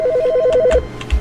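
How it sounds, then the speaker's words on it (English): Ringing phone in the video game The Stanley Parable, a warbling electronic trill that repeats rapidly for under a second, then stops, followed by a few soft thumps. "Phone call!"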